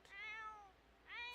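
A fluffy cat in The Sims video game gives two soft, drawn-out meows, the first falling in pitch and the second rising, quiet and close with a short pause between them.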